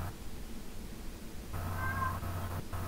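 A pet cat named Pacha meows to be let in, one short muffled meow from nearby behind a door, following a stretch of quiet room noise.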